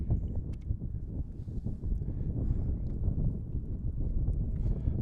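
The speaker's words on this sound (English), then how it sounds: "feeling the gust coming at me right now" Wind gusts buffet the microphone at an outdoor varsity baseball game, a steady low rumbling buffeting that persists through the whole stretch with faint scattered ticks above it.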